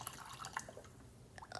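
A pot being filled with water for lemongrass and ginger tea, a faint, close trickle and splashing with scattered drips, no voices.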